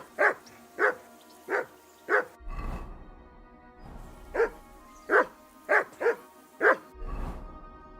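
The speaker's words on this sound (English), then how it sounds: "Jesus, Henry, that barker's driving me nuts. Get your dog to shut his beak." A hound barks repeatedly in Kingdom Come: Deliverance II, in two bursts of four and six evenly spaced barks with a short pause between them and low rumbling in the background.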